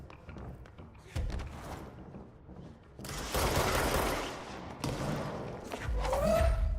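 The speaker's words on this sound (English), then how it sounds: "Shooting rockets at me." Rockets fired at the player in the action game Control, a series of loud whooshing blasts and impacts bursting in after a quieter start, with heavy thumps and a rising whine near the end.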